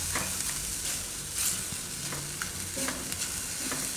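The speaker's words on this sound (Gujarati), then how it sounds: "તો ગ્રેવી થોડીક વાર પાકવા દે." Urad dal kofta gravy simmers and sizzles in a pan, giving a steady frying hiss broken by occasional stirring scrapes and soft clinks, close up and continuous without speech.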